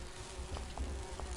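Giant bees buzz in the Grim Fandango game scene, a steady close insect drone with a low hum underneath, heard alone without talk.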